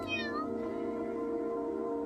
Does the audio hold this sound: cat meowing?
yes